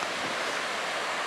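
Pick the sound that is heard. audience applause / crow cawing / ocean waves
ocean waves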